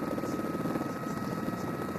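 A helicopter filming the 2012 Ghent–Wevelgem cycling race gives a steady, unbroken rotor and engine drone, dense and constant, heard alone.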